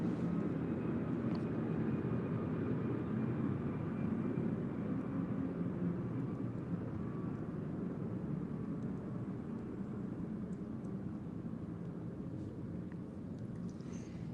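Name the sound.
airplane passing by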